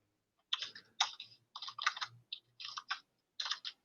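Typing on a computer keyboard while entering a search, bursts of quick close clicks and key taps in several clusters separated by short pauses, with no talking.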